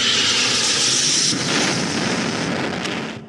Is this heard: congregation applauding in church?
no